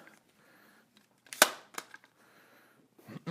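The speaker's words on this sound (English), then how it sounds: "I'm going to go ahead and remove the carrier here" An AR15 bolt carrier is pulled from the rifle, a sharp metallic snap followed by a smaller click and a last clack, close and quiet between the hits, without talk.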